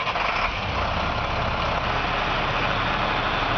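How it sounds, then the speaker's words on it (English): A truck engine idling steadily ahead of a PTO hoist raising the bed, a constant low rumble at even loudness throughout, with no voices and no change in pitch. "I'm going to have Dave start the truck and do a demonstration on the PTO and the hoist"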